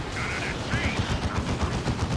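Rapid gunfire pounding a looted tank during a Dawn of War 2 battle, a dense rattle of repeated shots and impacts with other battle sounds layered over it.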